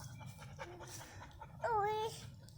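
A dog pants in quick, breathy bursts on a camping trip, close by and fairly soft, then gives a brief high whimper near the end.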